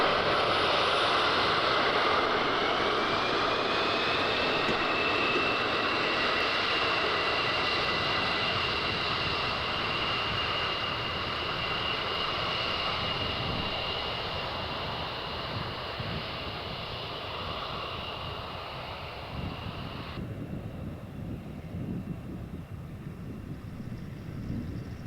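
A steady propeller aircraft engine drone in D-Day anniversary footage, loud and continuous with a sustained tonal whine, slowly fading over about twenty-five seconds with wind buffeting in the background.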